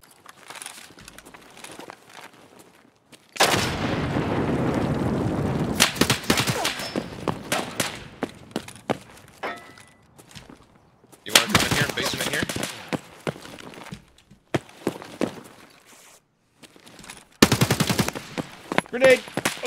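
Gunfire in the video game Escape From Tarkov arrives in several sharp bursts of rapid automatic shots separated by quieter gaps, loud and close, with brief talking in between.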